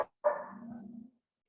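A dog named Joe gives a single drawn-out bark that trails into a whine, fairly close and alone after a faint brief sound at the start.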